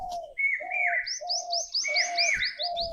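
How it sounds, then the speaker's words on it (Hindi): Birds chirp and sing steadily at Anand Murti Dham temple in Rewai, Ambedkar Nagar: a repeating low call threads through bright, rising tweets that overlap for several seconds, clear and fairly close. "तो ये देखिए पक्षियों का चहचहाना भी होता है यहाँ।"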